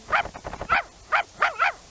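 A dog in the video game Tenchu barks and yips in a quick run of sharp, close calls with short gaps between them.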